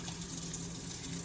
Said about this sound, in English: You can put a little detergent in now or just rinse it with water.